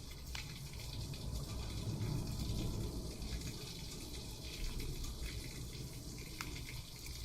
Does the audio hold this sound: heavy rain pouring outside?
yes